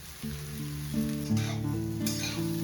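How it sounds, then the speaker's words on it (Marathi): Milk-soaked fenugreek seeds are fried in leftover oil, giving a steady close sizzle with light stirring while soft background music plays throughout. "त्याच उरलेल्या तेलात दुधात भिजवलेली मेथी आपण आता परतून घेऊ"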